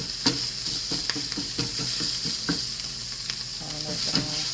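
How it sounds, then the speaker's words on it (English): Sausage gravy sizzles steadily in a pan as a spoon scrapes and stirs it in repeated strokes, with frequent clicks and taps against the pan, and no talking. "Just gonna do a little patty sausage gravy"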